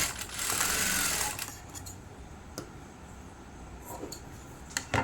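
A sewing machine stitches a back boat neck, front deep neck blouse in a short burst of rapid whirring, then falls quiet. Faint clicks and small handling knocks follow.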